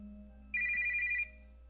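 A phone rings with an incoming call, a short electronic ringtone burst of steady repeating tones rising clearly over a quiet room hum, then cutting off after under a second.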